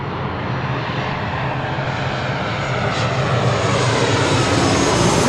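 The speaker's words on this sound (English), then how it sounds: "This is Southwest Airlines 1438 coming in from Sacramento on a 737-800" Southwest Airlines Boeing 737-800 at LAX, a loud steady jet engine roar that swells slightly and holds continuously, no speech over it.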